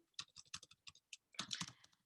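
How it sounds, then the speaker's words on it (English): Fingers tap out a brisk burst of keystrokes on a computer keyboard while typing into a chat box, with a short pause before a denser flurry, close and quiet with no talking. "I'm typing into the chat box now"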